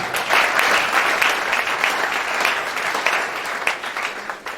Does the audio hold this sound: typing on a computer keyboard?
no